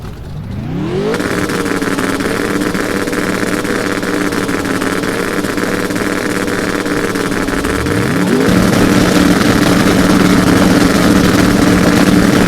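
Pro Mod drag racing cars launching down the drag strip at a championship final, engines roaring loud and steady, with a second rising surge of revs partway through as they accelerate hard.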